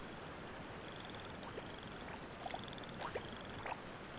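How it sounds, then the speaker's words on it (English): Frog croaks in the video game Genshin Impact, a few short faint chirpy calls spaced over a steady ambient background of water and surf. "Ah, frog. Hello, frog. How are you doing, frog?"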